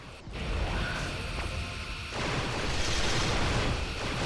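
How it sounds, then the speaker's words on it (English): Explosion aboard a starship in a Star Trek starship battle video game as the warp core is hit, a dense, sustained roar of blasts and crashing debris lasting several seconds, swelling louder midway and staying loud to the end. "The warp core's been hit and the shield generator's down."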